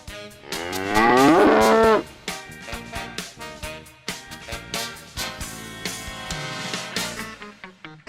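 A cow gives one loud, drawn-out moo close by, followed by a rhythmic beat of music.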